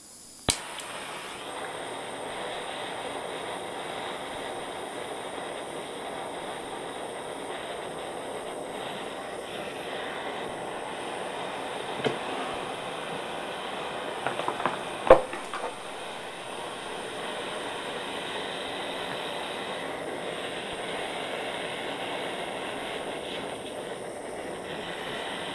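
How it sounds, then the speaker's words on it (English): A torch flame burns steadily while melting metal into granulation balls, a long, even, roaring hiss broken by a few small clicks and taps. "I'll light the torch and get started melting"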